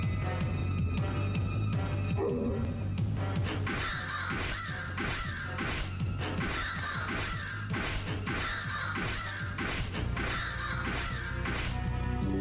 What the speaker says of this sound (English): murder of crows there